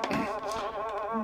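Biting flies or mosquitoes buzz close by in a steady, wavering drone that carries on without pause, with no voices over it.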